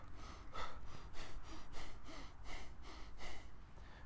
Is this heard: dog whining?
no